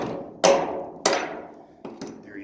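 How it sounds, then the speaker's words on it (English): A hammer strikes old rusty welds on a shipping container's steel floor, two loud ringing metallic blows that decay slowly, followed by two lighter taps. "I'm actually just coming through and hitting them with a hammer"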